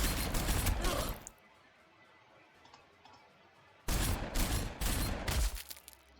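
A burst of gunfire in the strategy game Warhammer 40,000: Sanctus Reach, a loud rattling volley that cuts off into near quiet, then a second heavy crackling barrage a few seconds later.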